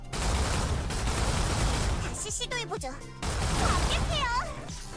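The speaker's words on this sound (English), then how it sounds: "I'm just gonna shoot this." Rapid bursts of gunfire from the video game Stellar Blade, dense crackling volleys over a steady game backdrop, broken by a short pause and warbling electronic effects in the middle.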